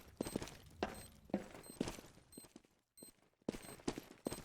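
Gunfire from the video game Counter-Strike: Global Offensive during a competitive esports match comes as repeated rapid bursts of shots, fairly quiet and crisp, with a short silent gap midway before the firing resumes.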